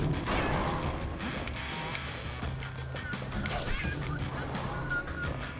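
Pecker birds in the Bastion video game squawk and honk in scattered cries amid crashing game effects and a low droning background, busy and layered throughout.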